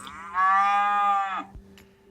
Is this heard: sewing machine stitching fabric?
no